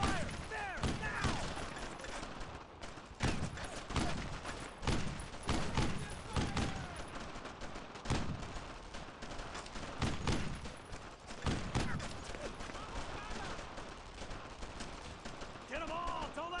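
A squad's base of fire in Brothers in Arms: Road to Hill 30 keeps up dense, near-continuous gunfire, with sharp rifle and machine-gun cracks overlapping for the whole stretch while voices shout through the din.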